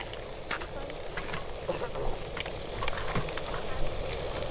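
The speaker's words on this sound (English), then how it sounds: "Hot oil on the lake." Food sizzling in hot oil outdoors on a frozen lake, a steady dense crackle and hiss with scattered sharper pops, continuous and fairly loud throughout.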